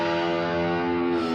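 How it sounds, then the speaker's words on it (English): Electric guitar with heavy distortion, its open low E string bent behind the nut so the pitch droops and wavers in one sustained, loud, eerie note, as at the opening of a song. "That's how you get that weird guitar sound at the start of the song."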